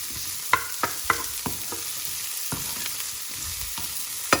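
Mixed vegetables sizzle steadily in a hot pan for pasta, a dense frying hiss broken by several sharp clinks and scrapes of a utensil stirring, close and fairly loud with no voices.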